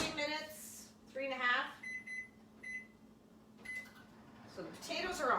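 A microwave oven heating potatoes for about three and a half minutes gives a few short electronic keypad beeps and a faint running hum while a person talks over it in a kitchen.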